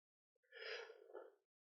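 A person gives one soft, breathy yawn lasting about a second, heard close and quiet against near silence.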